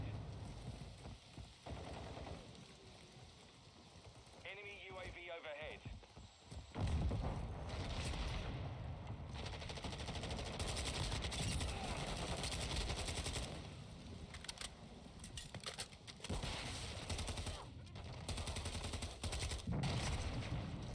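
Video game gunfire rattles in dense, continuous bursts, with machine-gun fire and occasional heavier booms in a loud, chaotic firefight that lasts throughout.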